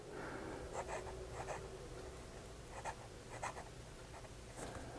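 A Sheaffer Intensity fountain pen with a medium nib scratches softly across paper in short irregular strokes, faint and close against a low background hiss.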